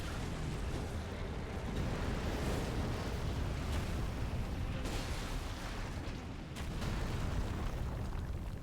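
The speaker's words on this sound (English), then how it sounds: "And a big bomb." Big bomb explosion in the video game Elden Ring, a sustained roaring blast with a heavy rumbling boom that rolls on for several seconds, loud and dense with a few sharper bursts.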